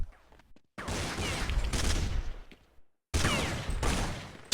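Rapid gunfire bursts in Counter-Strike on de_train, two loud dense volleys of rifle spray separated by a brief silence, close and sharp with no talk.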